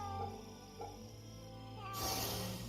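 A cat meows in the video game Fate/Samurai Remnant, a few short, faint calls over game music, followed by a brighter swell of sound near the end.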